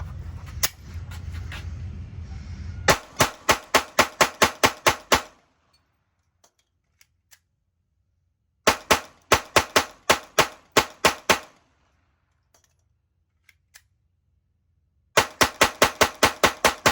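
A Glock G44 .22LR semi-automatic pistol fires Remington 22 Viper rounds in three rapid strings of sharp, snappy cracks, six to eight shots each, separated by near-silent pauses with a few faint clicks.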